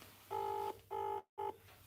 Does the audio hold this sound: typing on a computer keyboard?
no